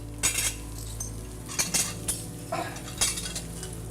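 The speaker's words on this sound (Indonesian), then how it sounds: "aku beres-beres piring dulu" Plates and cutlery are cleared from a table, with irregular clinks and scrapes of metal on ceramic, close and fairly loud, no talk.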